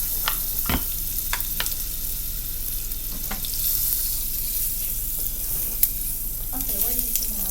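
Butter sizzles and spits in a frying pan on a home stove as breakfast is cooked, a steady crackling hiss punctuated by sharp pops and occasional utensil clinks, close and loud.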